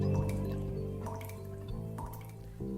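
Water drips in a short sound logo for the podcast La Gotera: a few bright, spaced droplets ring over a sustained tonal musical bed, clean and close.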